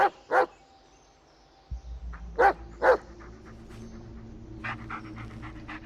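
Dog in the Blair Witch video game giving a few short barks and yips followed by steady panting, close and fairly clear against a quiet background.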